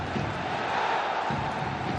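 A football stadium crowd roars and cheers continuously in a dense wash of voices during an Al Ain versus Al Sadd AFC Champions League match, loud and steady throughout.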